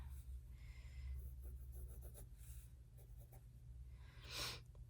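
Pencil scratching across paper while technical flats are drawn by hand, quiet intermittent strokes over a steady low hum, with a soft breathy rustle near the end.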